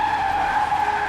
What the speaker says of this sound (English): while sending this text message, Sarah crashed head-on with oncoming traffic.